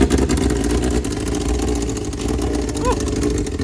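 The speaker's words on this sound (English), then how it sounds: "All right, engine is now alive." A Formula SAE race car engine runs with a rough, steady mid-pitched drone and uneven throttle, loud and close, the running engine filling the whole short stretch.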